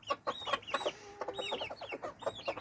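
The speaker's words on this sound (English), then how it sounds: "it's a chicken party and they're having nasturtium snacks" Backyard chickens, adults and nearly grown young, snacking on nasturtiums in a fall garden, giving a run of close, fairly loud clucks and short squawks in quick irregular bursts.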